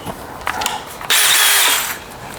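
A cordless DeWalt drill spins up on battery power, starting with a few short mechanical clicks and handling noise before a loud, steady high-pitched whine that holds for nearly a second and then cuts off, with no talking.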